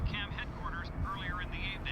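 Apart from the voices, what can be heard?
helicopter in the background of a news broadcast, from video game F.E.A.R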